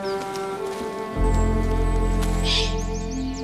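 Birds sing outdoors in the wild, a few clear chirps and whistled notes over a steady low drone that swells partway through.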